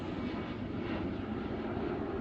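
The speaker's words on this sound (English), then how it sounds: "Excuse the airplane." A fixed-wing airplane passing low overhead near an airport, a continuous loud engine roar that fills the whole stretch without letup.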